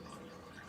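Gearbox oil draining from a Jaguar XK8 X100 into a drip tray, a faint steady trickling stream that runs continuously without pause.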